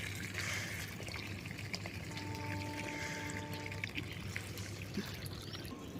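Water from a pipe pours steadily onto garden plants and leafy greens during morning watering, a continuous close splashing trickle with no voices.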